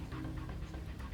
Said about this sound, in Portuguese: Nossa, o cachorrinho...